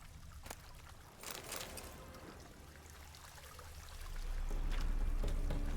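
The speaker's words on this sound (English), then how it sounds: "There's the fact that the fountain's still going." Running water from a fountain in the Witcher 3 Hearts of Stone game, a steady trickling and splashing wash that swells louder toward the end, with no one talking over it.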